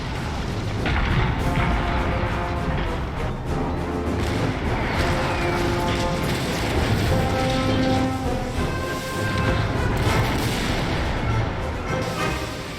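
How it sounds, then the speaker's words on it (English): French artillery guns at Waterloo fire in a continuous rumbling barrage of booms, steady and heavy throughout with no clear gaps. "As the Emperor signaled, the French guns thundered."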